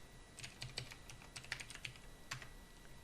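Rapid keystrokes on a computer keyboard, irregular clicks and taps over about three seconds, fairly close and quiet with no talking.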